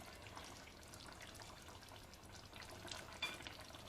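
Sauce spooned over stuffed kaki tomatoes simmering in a tajine gives a faint, steady sizzling bubble with soft liquid splashes and one small clink near the end.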